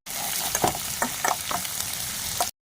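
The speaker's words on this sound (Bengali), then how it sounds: "এবার ওই তেলের মধ্যে প্রথমে দেবো রসুনগুলো, পেঁয়াজ" Garlic and onion sizzle in hot oil in a pan for chili prawn, a steady close frying hiss broken by a few stirring scrapes and clinks.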